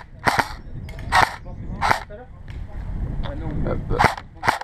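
An airsoft replica SIG556 Shorty by King Arms fires single semi-automatic shots, a handful of sharp cracks spaced irregularly and up close, with someone talking quietly between them.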